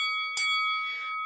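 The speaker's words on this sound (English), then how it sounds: "there's the fight bell" A fight bell sounds once with a sharp metallic strike and a long ringing decay over a steady electronic hum, with no talking.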